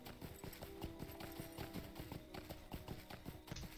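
A goat mount in The Lord of the Rings Online clip-clops along in quick, regular hoofsteps, a steady trotting rhythm over a soft game-ambience background.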